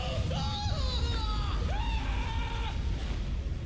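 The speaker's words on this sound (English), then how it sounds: "I'm going to click on the premium, and you're going to have to just deal with the screams" Shrill, wavering screams from Vilgefortz's premium animated card in the Gwent video game, several rising and falling cries over a dense, constant roar of flame-like noise, loud and continuous throughout.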